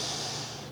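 A single slow exhale during a yoga flow, a soft airy breath through the nose, close and quiet with a steady hiss that fades toward the end.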